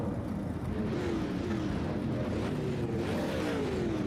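Dirt race cars in the iRacing simulation at Eldora Speedway drone together as a steady engine roar, with rising and falling pitch sweeps as cars accelerate and pass, continuous and fairly loud.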